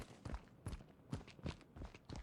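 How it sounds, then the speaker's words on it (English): Footsteps in the video game DeaDrop, two sets of steps sounding as a string of soft, irregular thuds at close to medium range, some landing close together, with no talk over them. "2 sets of footsteps."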